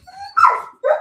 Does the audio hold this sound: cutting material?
no